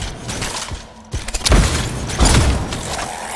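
A canister detonates in the video game Anthem, with a burst of clattering mechanical rattles followed by a heavy booming blast and a second loud thump, full and close over a continuous background rumble.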